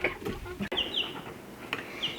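Baby chicks cheep and cluck in a series of short, bright calls, close by, with a steady low background hum.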